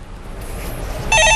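A telephone rings loudly on a Korean stock-market call-in show, its electronic tone starting abruptly after a second of quiet studio background and continuing steadily to the end.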